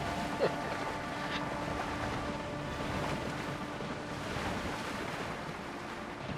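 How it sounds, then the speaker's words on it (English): Ocean waves wash steadily around a sailing ship in the video game Windrose, a continuous rushing surf with wind that stays even throughout. "So the waves are definitely kicking me up"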